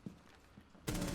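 Sustained automatic gunfire from a held trigger in Rainbow Six Siege Terrorist Hunt, a dense rapid burst that erupts loudly after a few quieter isolated shots and keeps hammering without pause.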